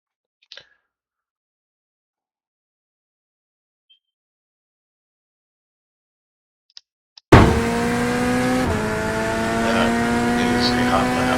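Corvette GT3 race car in the iRacing sim at Fuji Grand Prix, silent at first apart from a few faint ticks, then a loud sustained engine drone bursting in near the end, holding steady with a slight shift in pitch as it accelerates.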